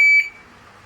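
A single sharp electronic beep from a shooting practice timer, starting random and loud, holding a steady high tone for about a fifth of a second before cutting off into quiet room ambience.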